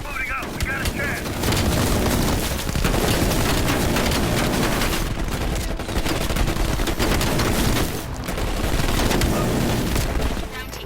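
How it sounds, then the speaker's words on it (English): Explosions from a bombing strike mixed with bursts of gunfire in Call of Duty: Black Ops Cold War, loud and sustained booms and rattling fire that swell in waves, with voices speaking over the battle. "Orders confirmed. Bombing strike imminent."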